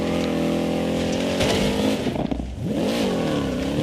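Racing-game car engine fired up and revved hard, a loud continuous motor drone with rising and falling pitch sweeps as it accelerates, no talking.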